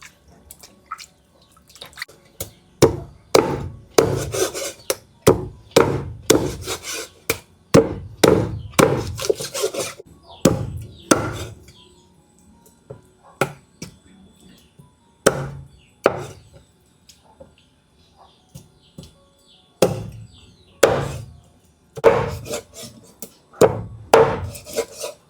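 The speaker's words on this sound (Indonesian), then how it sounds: "tinggal kita bilas dan potong jadi potongan kecil-kecil" Meat being chopped into small pieces on a wooden board, with irregular bursts of sharp, close knife strikes separated by short pauses, and light dripping water in the background.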